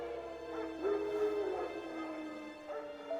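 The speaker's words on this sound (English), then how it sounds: "Wild dogs." Wild dogs in The Witcher 3 video game give faint, distant whining barks and yips over a steady ambient hum, a few scattered calls with no talk.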